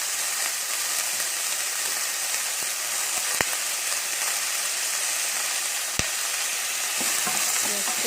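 Minced beef and sliced tomatoes fry in a pan with a steady, close sizzle throughout, broken by a few sharp clicks of a utensil stirring and scraping the mixture.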